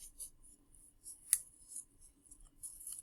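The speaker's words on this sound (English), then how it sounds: "and then I fold it down" Sheet of origami paper folded for a sheep face, giving soft crisp crinkles and swishes with one sharper crease snap midway, close and quiet, with no talking.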